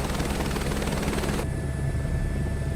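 A virtual-reality flight game's helicopter roars steadily with a thick rotor and engine drone, loud and continuous, its bright upper whine cutting off halfway while the low rumble carries on.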